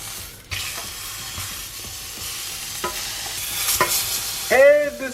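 Black cod fries in a pan with a steady close sizzle and hiss, punctuated by a few sharp clatters and scrapes, then a brief voiced exclamation at the end.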